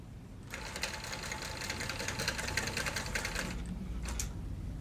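A long arm quilting machine runs fast with a low stitch length to baste a quilt, a steady, rapid mechanical chatter that starts after a quiet moment and stops near the end, close and even.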